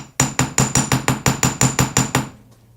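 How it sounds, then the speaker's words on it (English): A small hammer strikes metal to texture a piece of jewelry, eleven rapid, evenly spaced ringing taps close up, each with a bright metallic ping, ending in a brief fading ring. "I'm going to start with my smaller hammer first"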